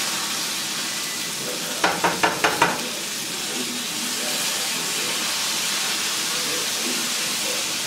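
Salmon fillet sizzling steadily in a hot pan while a ramen sauce thickens nearby; a quick run of five or six sharp taps breaks in early, then the close, even frying hiss carries on alone.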